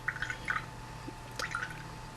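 A paintbrush swished in a cup of dirty rinse water gives a few small, close drips and splashes, two brief clusters of wet clinks and trickles over a low hum.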